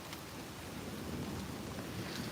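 A New York City thunderstorm: steady, dense rainfall forms a continuous wash of noise, with a low rumble of thunder rolling beneath it and no pauses.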